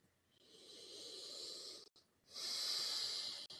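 Two long, deep breaths taken slowly, each a soft airy hiss swelling and holding, the second louder, with a short pause between them in a quiet room.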